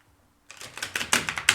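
Thick, stiff tarot cards being shuffled, a quick run of crisp clicking riffles close by, starting after a brief silence and growing louder toward the end.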